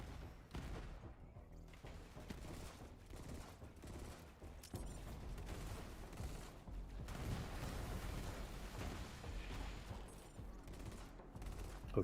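Sustained rapid gunfire in the video game Borderlands 3, dense bursts mowing through enemies with booms and mechanical clicks, loud and continuous with brief gaps.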